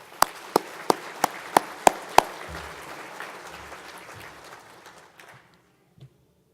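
Audience applause at an awards banquet, fairly loud in a large room, with a few sharp claps standing out early before the crowd's clapping tapers off and fades into silence.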